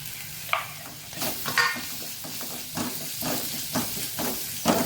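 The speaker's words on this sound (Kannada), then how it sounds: "1 ನಿಮಿಷಗಳ ಕಾಲ ಇದನ್ನು ಹೀಗೆ ಸಾಟೆ ಮಾಡ್ತಾ ಇರಿ" Chutney spices frying in oil with a pinch of turmeric in a pan, sizzling steadily and loudly while a spoon stirs and scrapes through them in repeated bursts.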